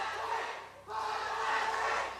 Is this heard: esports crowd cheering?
yes